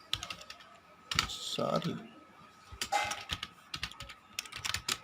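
Keys clatter in quick uneven bursts on a computer keyboard as code is typed, close and fairly loud, with a person speaking briefly in between.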